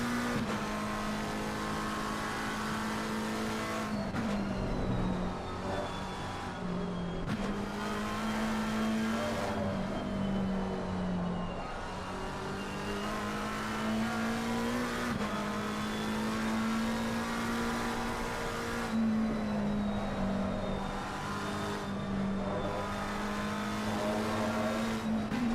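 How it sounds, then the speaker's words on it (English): Porsche race car engine on the Nordschleife pulling hard through acceleration zones, a loud sustained rev that climbs, drops briefly at gear shifts and climbs again, several shift breaks in a row, with no talking. "just look at the way that Porsche pulls away in the acceleration zones"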